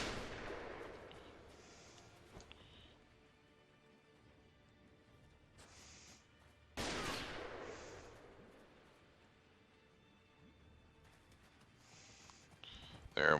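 Enemy gunfire in a Ninja Turtles tactics video game, a few sharp distant-sounding shots and impacts separated by quiet stretches, with a brief louder burst at the end.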